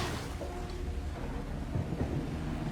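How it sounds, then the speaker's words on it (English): A thunderstorm in The Last of Us TV series rolls on as a dense, loud wash of rain with deep rumbling thunder underneath, continuous and close throughout. "This storm looks really good."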